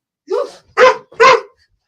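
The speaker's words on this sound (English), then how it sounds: "She's getting the dog going, so I apologize." A dog barks three times up close, loud and sharp, in a room during a casual chat, the first bark slightly softer and the other two evenly spaced and forceful.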